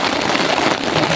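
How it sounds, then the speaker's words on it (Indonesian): Heavy rain pours steadily in a forest, a dense unbroken hiss of drops striking surfaces, loud and close throughout with no voices. "Setiap hari hujan lebat seperti ini masih tidak pakai baju."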